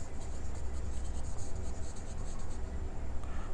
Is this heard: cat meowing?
no